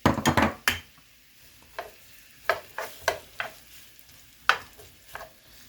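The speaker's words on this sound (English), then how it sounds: "The onion goes in the oil." Chopped onion sizzles in hot oil for a corned beef and egg stew, with a quick flurry of close stirring scrapes at the start, then scattered spoon knocks against the pot over a low frying hiss.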